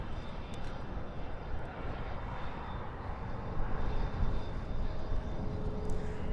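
A Boeing 747 airliner climbs out after takeoff at night from Dallas/Fort Worth International Airport, its engines a steady, broad rumbling roar that swells slightly midway and holds without any talk.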